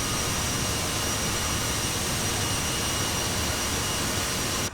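Steady, loud jet engine roar from an aircraft in flight, a dense broadband rush that holds constant with no talk before cutting off abruptly at the very end.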